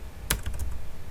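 Several quick keystrokes on a computer keyboard while entering text in a Windows 10 video editor, close and crisp, with a sharp first press followed by lighter taps in a brief burst, no voices.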